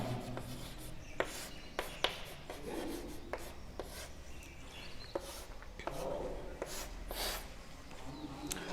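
Chalk or marker scratches across a classroom board in short strokes and taps, fairly close but soft, with faint room noise between the strokes.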